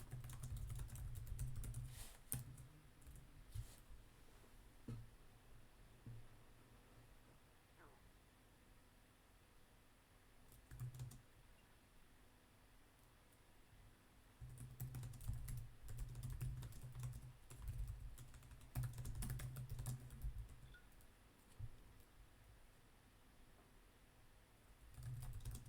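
Typing on a computer keyboard during a live chat about rookie sports cards, steady clicking in bursts with pauses, close to the microphone, with occasional talking in the background.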